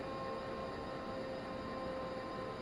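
A train runs in Train Sim World on the Seeberg Valley route, heard from the rear of the train as a steady, even rumble with a faint constant tonal hum and no voices.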